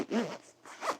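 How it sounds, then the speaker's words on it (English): A packing cube for a trip is zipped shut in two quick, close strokes, with a brief pause between the rasping pulls. "zip this bad boy up"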